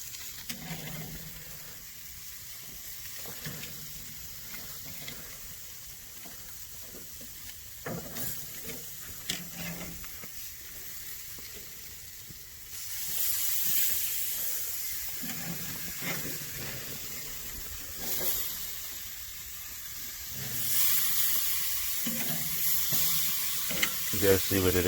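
Pork ribs sizzle and hiss steadily over an open grill flame, with the frying crackle swelling louder near the middle and again toward the end, while a voice talks over it at times.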